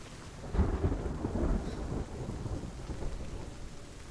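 Thunder rumbles with rain falling during a storm in the video game Hellblade: Senua's Sacrifice, a low rolling peak early on easing into steady stormy noise, with no talking.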